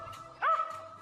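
A single short dog bark rings out on a film set during an outtake, one clear yelp against a quiet background.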